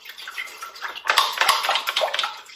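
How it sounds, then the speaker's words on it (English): Tap water running into a pot for cooking macaroni, a splashing, gurgling pour that grows louder and fuller as the pot fills. "And then you need to fill that up with water."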